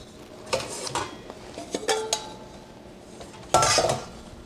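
Clattering bowl handled in a kitchen while making bread, with several sharp clinks and knocks of crockery and utensils, close and loud, the strongest bang near the end.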